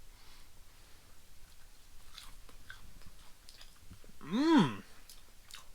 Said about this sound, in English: We'll try a piece of the rainbow trout first with a little